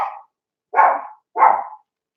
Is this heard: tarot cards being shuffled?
no